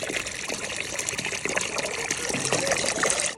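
Water pours steadily into a container in a village home kitchen, where ice is to be added; a continuous close trickling gush runs for about three seconds with no talk.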